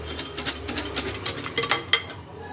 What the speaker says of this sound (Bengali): এটাকে এইভাবে ভালোভাবে ফেটিয়ে নিতে হবে